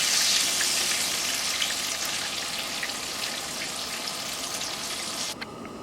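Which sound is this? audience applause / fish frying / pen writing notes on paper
fish frying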